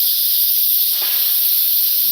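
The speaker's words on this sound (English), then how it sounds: "see the steam coming out?" Steam hissing steadily from the vent of a pressure cooker while oxtail is cooking, a loud continuous bright hiss throughout with no voices.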